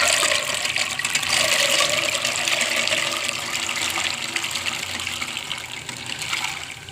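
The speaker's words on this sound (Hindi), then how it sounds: "इसको अब हम डालते हैं देचकी में।" Frozen-bound peas poured into a cooking pot with water, making a continuous gushing, splashing rush that slowly fades over several seconds.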